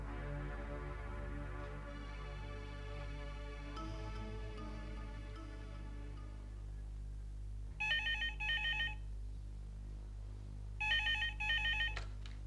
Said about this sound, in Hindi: तो क्यों ना हम हेमंत जी को फोन कर दें